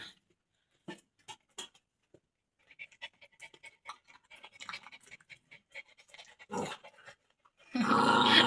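Several excited pet dogs pant, scratch and growl softly beneath a table while waiting to eat balut, in short irregular bursts at close range, ending with a louder sustained rush of noise.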